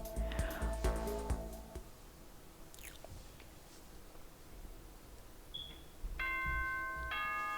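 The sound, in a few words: school announcement chime in Danganronpa video game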